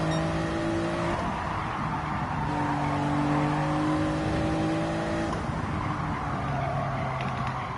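A Gran Turismo 7 race car lifts off the throttle and slides into oversteer to scrub speed, with a steady engine hum under tonal tire squeal that holds and shifts pitch throughout.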